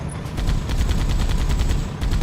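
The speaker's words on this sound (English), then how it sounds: "I got the CE turret chain gun sound on the Scorpion's turret as well." Chain gun fire from the turret of a Scorpion tank in Halo 2, a steady rapid burst of shots lasting the whole moment, loud and dense over a low rumble of battle.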